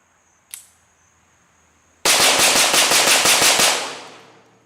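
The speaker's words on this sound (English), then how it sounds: "there's nothing more fun than plinking with a 22 rimfire" A .22 rimfire rifle plinking: one sharp crack, a pause, then a rapid, evenly paced string of about ten loud shots that trails off into a fading echo outdoors.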